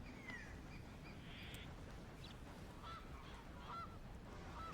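A goose-like bird honking in Red Dead Redemption 2 during a hunt, faint and distant calls scattered over a steady outdoor ambience with no talking.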